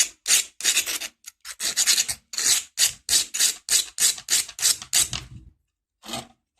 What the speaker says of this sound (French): On va lui mettre un bon petit coup de lime.